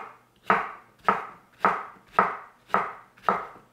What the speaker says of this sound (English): I'm just gonna give them a rough chop at this point to kind of end up with little pieces